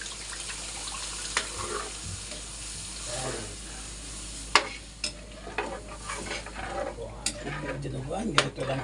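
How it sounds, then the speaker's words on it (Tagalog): Pork blood is poured into simmering dinuguan and stirred, giving soft liquid stirring, a quiet sizzle and occasional clinks of a spoon against the pot, with faint talk in the background. "Lagay na po natin yung ating dugo."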